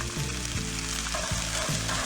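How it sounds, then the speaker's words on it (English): Soaked black chickpeas and Bengal split gram frying with spices in a pan over medium heat, a steady loud sizzle with occasional stirring scrapes, no talk. "Increase the heat to medium and fry these lightly."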